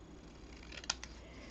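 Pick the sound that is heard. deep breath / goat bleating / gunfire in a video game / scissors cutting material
scissors cutting material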